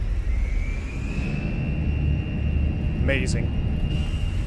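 Airbus A320 engines in a flight simulator spooling up for takeoff, a steady rising whine over low rumble, with a voice briefly speaking over it.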